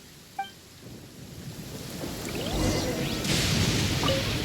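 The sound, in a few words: thunder and rain of lightning storm in Genshin Impact video game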